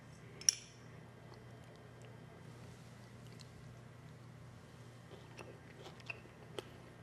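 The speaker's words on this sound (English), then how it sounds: "That was heavy bite on the pear." One sharp crunchy bite into a baked pear topped with chia pudding, close and brief, followed by quieter chewing clicks and faint mouth sounds with no talk.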